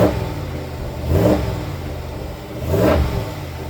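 A 2026 Ram 1500 Big Horn with the 5.7 HEMI V8 and GT exhaust, idling with a deep rumble and blipped twice, each rev swelling and falling back, close and loud.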